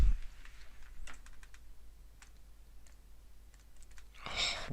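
Clicking during digital painting: light, sparse clicks and taps scattered through a quiet stretch, close and faint, with a louder rustling burst at the end.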